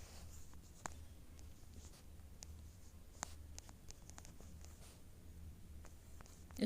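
Pen writing an answer by hand on paper, faint scratchy strokes and light taps scattered irregularly over a quiet room hum, with no one speaking.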